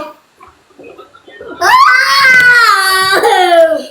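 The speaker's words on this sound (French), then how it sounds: "On n'attend pas que mon bébé pleure" A baby cries loudly and close by, opening with faint whimpers and then breaking into a sustained wailing cry that rises and falls, with no other sounds competing.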